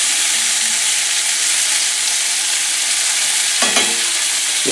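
Summer fluke frying in a cast iron skillet makes a loud, continuous sizzle, with a brief clatter near the end as the fish shifts in the pan.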